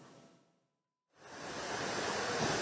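Sea waves wash onto a beach fouled by an oil spill, a broad rushing surge of surf that fades to near silence, then swells back up loud and steady, with wind noise on the microphone.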